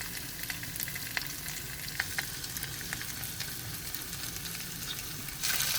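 Masala-coated fish fries in hot oil with a steady, even sizzle and crackle that holds throughout, growing slightly louder at the very end, with no voices.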